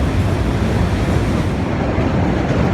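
A train in motion, with a continuous loud, dense rumble of wheels and carriage noise heard close up and unbroken, and no voices over it.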